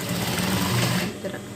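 A sewing machine stitches a flower pot design with a steady, fast, whirring run, close and continuous throughout the short moment, with no talking over it.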